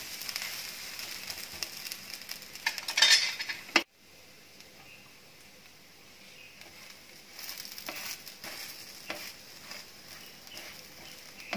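An instant dosa frying on a hot pan over a gas flame: a steady sizzle and light scraping, a sharp clatter as the dosa is turned, then quieter frying.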